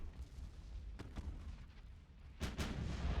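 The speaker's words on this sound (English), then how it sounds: "Our heavy cruisers are engaging their battle cruiser." Heavy cruisers firing their guns in the naval warfare game Ultimate Admiral: Dreadnoughts: several booming artillery reports over a low rumbling battle bed, with a louder pair of blasts near the end.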